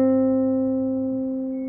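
A single fingerpicked guitar note on the E string rings out alone, clear and close, decaying slowly over under two seconds with no other notes.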